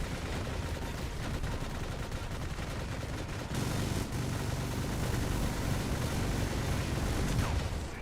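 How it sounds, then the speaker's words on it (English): Heavy robot weapons fire pours onto enemy shields in the War Robots game, with a constant roar of shooting and explosions that swells louder partway through. "Shoot through his shields."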